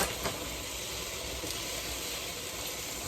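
Steam hissing from a rye bread chaffle cooking in a chaffle maker, a soft, steady sizzle and hiss at a low, even level, with no one talking.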